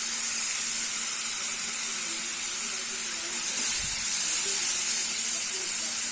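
Chopped onion and garlic sauté in hot oil in a pan, a bright, steady sizzling hiss that stays even throughout, with no talking.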